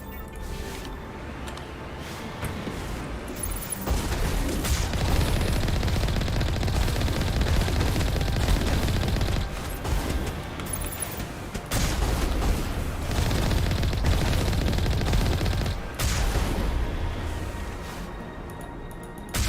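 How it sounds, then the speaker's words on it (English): Dense gunfire and rocket blasts rumble through a Mass Effect battle, sustained volleys and heavy booms overlapping loudly with only brief lulls. "that's a lot of rockets"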